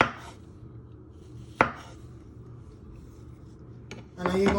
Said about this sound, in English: You're just slicing your mushrooms, just like that. You just keep slicing them.